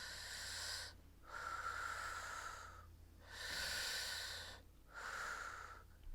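Heavy rhythmic breaths during a supported squat in chair yoga, four long hissing exhales and inhales in slow succession with brief pauses between, close and fairly quiet.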